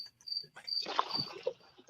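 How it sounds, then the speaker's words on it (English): A cricket chirps in short, repeated high-pitched trills near a lake on a summer fishing outing, fairly faint, overlapped by muffled talk and light handling noises. "could you come to my house and catch this dang cricket over here?"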